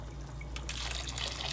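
Hot water pours onto rice in a cooking pot, starting with a short splash and then a steady broad rush of liquid, close and fairly loud over a low background hum.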